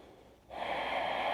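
A steady, close breath during a slow-flow yoga twist, quiet at first and then a long, loud airy exhale or inhale that holds to the end.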